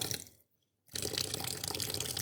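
Tap water running for ablution, a steady close splashing flow that stops briefly near the start and then resumes strongly without talk.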